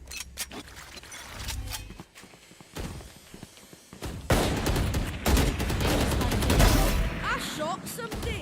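Rapid bursts of gunfire from the Valorant shooter game crackle in clusters amid footsteps and game noise, loud and busy.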